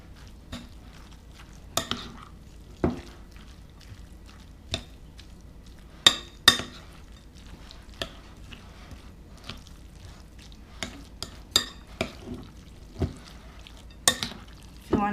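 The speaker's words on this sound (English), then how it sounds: "we just mix it up really good and keep mixing till it's thoroughly mixed" A spoon works tuna sandwich filling around a bowl, giving soft wet squishes and sharp irregular clinks against the sides, close and fairly quiet, with no talking.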